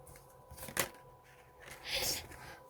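Tarot cards riffled and drawn from a deck: a sharp papery shuffle burst near the start and a longer softer flutter later, close and fairly quiet, with no talk.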